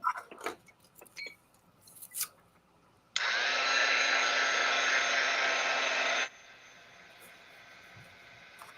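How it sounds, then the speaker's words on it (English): Heat gun blowing hot air on an art journal: after a few soft taps and rustles, a loud steady whooshing roar switches on abruptly, holds for about three seconds, then drops to a quieter hiss. "Heat gun."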